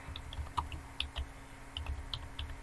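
Light, quick keystrokes patter on a computer keyboard, close and soft, with irregular clicks and a faint steady hum beneath.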